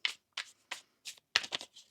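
Tarot cards being shuffled by hand, six or seven short crisp riffling bursts separated by brief pauses, close and clear with no voices.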